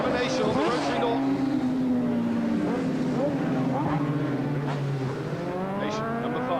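Racing motorcycles, a Suzuki and a rotary Norton, scream past at Cadwell Park, high-revving engines rising and falling through gear changes, loud and continuous, with a commentator speaking over them.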